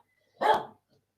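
A single sharp bark from Rocky the dog, fairly close and loud, standing alone in an otherwise quiet room.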